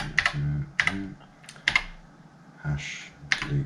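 Keys pressed one at a time on the numeric keypad of a BBC Master 8-bit microcomputer, making a handful of separate, close plastic clicks with uneven gaps and no talk.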